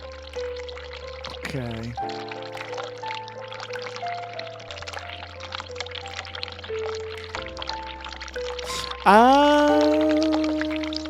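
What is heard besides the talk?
hot water running in bathroom, video game The Cat Lady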